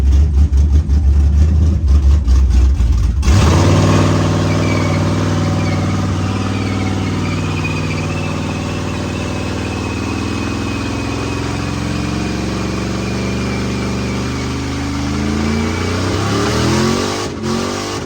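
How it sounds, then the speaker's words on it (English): A show truck's engine roars loudly, then drops back to a steady rumbling run with shifting revs as it is readied for a burnout; the engine sound carries alone, with no talk. "I'm gonna show you guys that the truck is running. And we're gonna do a small little quick burnout"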